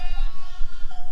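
A ewe in labour bleats loudly and close, one strained, drawn-out cry filling the short moment.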